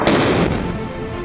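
A glide bomb strikes a land target on an island test range, a loud sharp blast followed by a rumbling decay that fades over about a second.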